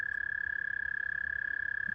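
A frog in the video game FFXIV makes a steady, rapid pulsing hum in the water, a continuous buzzing tone that holds evenly throughout, close and clear, with no talking.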